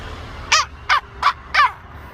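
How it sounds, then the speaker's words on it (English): Jackdaws call in a churchyard, four loud, evenly spaced caws close by over faint background hum. "There's some jackdaws in the churchyard here"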